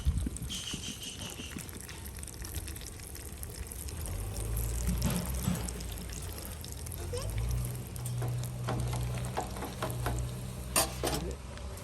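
Mustard seeds, urad dal and peppercorns crackle and sizzle in hot oil for temple-style rasam, a continuous close frying hiss with stirring and scraping in the pan.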